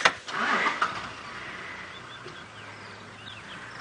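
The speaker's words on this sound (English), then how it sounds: "My car's rolling forward." A safari vehicle's engine idles with a low, steady rumble as the car rolls slowly forward, with a brief louder thump at the start, birds chirping faintly in the background, and soft movement noises.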